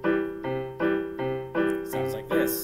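A band instrument repeats a single sustained note C about six times in an even rhythm, each tone held briefly with short gaps, close and clear.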